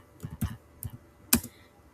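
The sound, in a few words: typing on a computer keyboard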